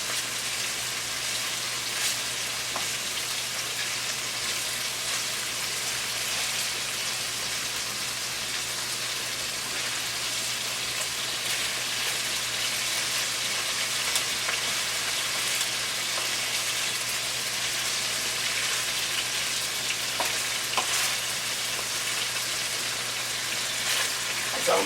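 Steak pieces sizzle and fry in a couple of tablespoons of olive oil in a pan, a steady crackling hiss running continuously with no breaks and no voices.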